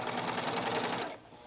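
A sewing machine stitches elastic onto swimsuit fabric in a steady, fast mechanical whir that runs continuously for about a second before stopping.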